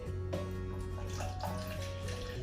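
Water, 200 ml, pours into cake batter in a bowl, a soft continuous trickling splash with faint background hum, no talking.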